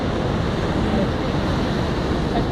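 Ocean waves wash onto a beach in a continuous broad roar, loud and close, with wind buffeting the microphone.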